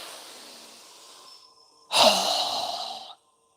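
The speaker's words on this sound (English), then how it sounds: "Strong exhale." A single strong exhale through the mouth, a breathy rush of air about a second long following a quieter inhale, close and clear with nothing else around it.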